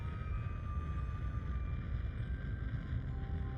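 Nuclear rocket engines firing in Kerbal Space Program, heard as a steady, low rushing roar with a faint whining hum on top, constant and unbroken from start to finish.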